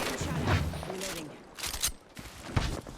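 Rapid gunfire bursts in a competitive duos shooter match, several sharp volleys cutting in and out against a busy background of in-game noise, fairly close and loud.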